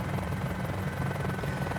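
Helicopter engine in Microsoft Flight Simulator, a single-seat helicopter at startup, making a steady, loud droning whine and buzz that holds unbroken with no voices over it.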